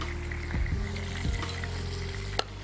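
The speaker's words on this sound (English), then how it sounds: "You know what I'm going to do is even add a little bit of butter to the top of that" Elk meat frying in butter in a pan, a steady close sizzle and crackle with a couple of scraping stirs and a light clink near the end.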